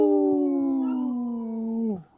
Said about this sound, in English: we heard Wendy in the background there howling